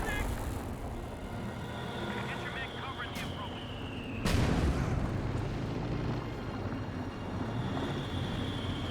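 Artillery barrage striking a base in the World War II strategy game Company of Heroes 2, a heavy blast booming out midway over a constant rumble of battle, with a whistling shell streak before it and talk running beneath.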